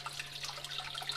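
Water runs steadily into a gold pan at a creek near a waterfall, a continuous bright splashing wash with no pauses across the whole stretch.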